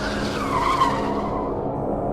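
A car brakes to a stop in front of a hotel with a sustained tire skid, loud and close, the squeal gliding in pitch before fading into a low engine rumble.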